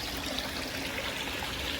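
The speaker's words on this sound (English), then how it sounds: "it is way, way too close to my waterfall" A backyard waterfall beside a koi pond gives off a steady, even rush of splashing water with no pauses.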